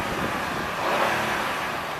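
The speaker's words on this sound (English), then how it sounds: "I'm going to rev the motor." A 2008 Acura TL S engine revved from the driver's seat produces a steady, dense, broadband roar that holds level throughout, loud and close with no voices.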